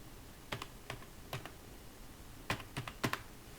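A Google verification code is typed on a computer keyboard: quiet, close key clicks arriving in short irregular clusters with brief pauses between them.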